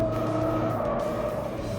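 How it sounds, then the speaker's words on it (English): A Ford Focus RS drifts with its tyres squealing and skidding across the surface, a loud continuous screech layered over a sustained engine drone, close and unbroken. "This vehicle is very easy to drift."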